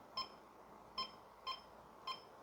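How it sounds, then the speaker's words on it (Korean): A KIS-1421 wired card terminal gives four short, faint electronic beeps as a phone number is keyed in, evenly spaced in a quiet room with no talking. "고객님이 본인의 휴대폰 번호를 누를 겁니다"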